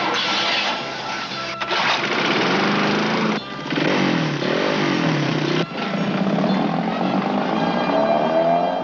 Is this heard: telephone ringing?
no